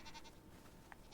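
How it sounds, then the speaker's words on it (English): Goats bleating inside the survival game Enshrouded, several short, faint nasal bleats in quick succession against a quiet ambient backdrop. "But this is the goats, and we have the 2 different kinds of goats."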